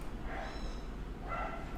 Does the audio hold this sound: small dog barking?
yes